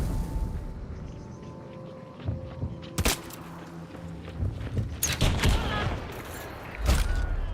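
Gunfire in the game Hunt, including a bomb lance hit, comes as sharp cracks and booms scattered over a low rumble, with several loud shots in quick succession near the end.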